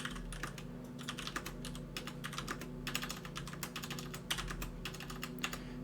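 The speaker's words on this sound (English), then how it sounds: "So if I type here" Close-up computer keyboard typing comes in quick bursts of crisp key clicks, separated by brief pauses, with no speech.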